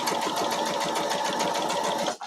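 A sewing machine with a quarter-inch foot, set to a 1.8 stitch length, runs at a steady fast whir while piecing a holly quilt block, then cuts off abruptly at the end.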